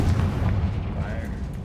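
A Confringo fire spell blasts in Hogwarts Legacy, a loud, sustained rumbling whoosh with a heavy low end that rolls on steadily without breaks.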